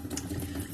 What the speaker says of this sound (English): Let me turn the water on to get it warm.